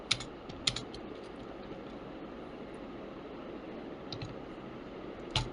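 Someone types on a computer keyboard while entering a C program for finding the HCF or GCD. A few sharp clicks land at the start and end, with faint keystrokes between, against quiet room hiss.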